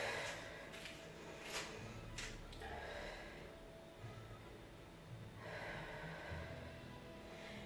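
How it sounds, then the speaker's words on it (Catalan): Steady breathing from someone in a functional training workout, a few audible breaths and exhalations, close and quiet over a low background hum, with no talking. "Respiro aquí."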